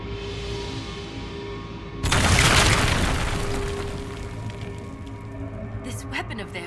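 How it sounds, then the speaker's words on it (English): A weapon in Dragon Age: Inquisition blasts through a magical barrier: a sudden loud booming burst that rumbles and slowly fades, followed by scattered crackling debris. "This weapon of theirs cut through the barrier, but was destroyed in the effort"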